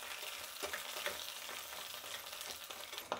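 Green chillies and curry leaves fry in hot oil for a pongal tempering, giving a steady, dense sizzle with soft crackles and spoon-stirring scrapes throughout, close and continuous with no talking.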